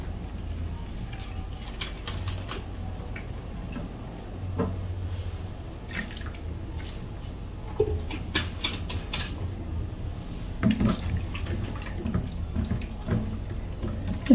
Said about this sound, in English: So we have our lobster here. I'm just gonna wash it with some vinegar.